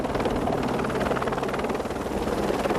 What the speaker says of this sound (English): For passenger transfer, the aircraft is positioned over the flight deck by the marshaller.